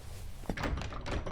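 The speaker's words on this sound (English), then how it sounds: "Frustratingly, this door wouldn't open." A locked door in the game Asylum rattles and knocks as someone fails to open it, a few short muffled clunks in quick succession, quiet and close.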